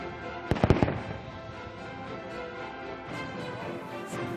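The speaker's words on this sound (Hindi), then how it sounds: "Now stun shell electric single shot fire, fire for effect, fire." A single electric stun shell goes off during riot-control training, a short burst of sharp cracks followed by a long noisy tail from the open range.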